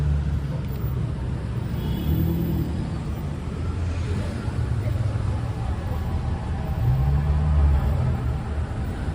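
Cars drive through Midtown Manhattan traffic in a rainstorm at night, a continuous close rumble of engines and tires with vehicles passing and one accelerating near the end.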